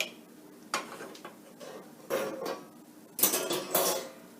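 Clattering thumps of a crumpet being flipped in a frying pan, with several short metallic clinks and knocks from pan and utensil, fairly close and separated by quiet gaps.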